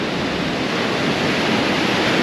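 Steady broadband wash of ocean surf against a rocky beach below a red cliff, continuous and fairly loud with no distinct individual wave breaks.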